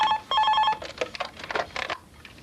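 Mobile phone ringing close by, a bright electronic ringtone with a steady tone followed by a quick series of chirping rings, heard alone without talk.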